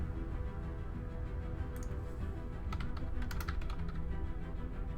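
Someone types on a computer keyboard while naming a species in a Stellaris game, giving a few scattered clicks and a short cluster of keystrokes that sit faintly over a steady background hum.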